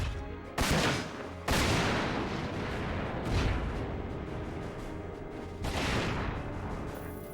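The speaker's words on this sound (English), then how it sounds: "I guess we just shotgun Latona some more." Heavy blasts from shotgun-armed mechs in Front Mission 4, loud booming bursts of gunfire recurring over several seconds, each with a roaring tail, with no voices.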